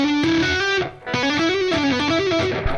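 Electric guitar with distortion played in a tapped legato line, a continuous stream of bright sustained notes with a brief gap near the one-second mark.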